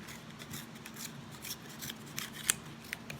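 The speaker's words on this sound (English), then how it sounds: "cut it out of your cardboard" Snips of scissors cutting through cardboard for a fish collagraph craft, several quiet cuts with one sharper snap, faint and close.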